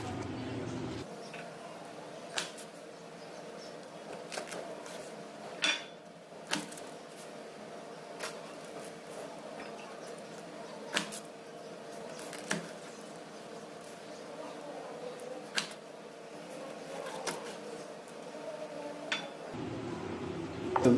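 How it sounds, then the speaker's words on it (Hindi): A knife slices thick green chillies on a cutting board, giving faint, sharp taps that repeat roughly every second over a quiet room hum. "तो बस मिर्चों को इस तरह स्लाइस में काटने के बाद आप इसके 2 पीस भी कर सकते हैं इस तरह।"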